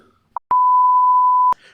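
Podcast break beep: a short blip and then a single clean, loud, steady electronic tone lasting about a second, sharp at onset and cutoff.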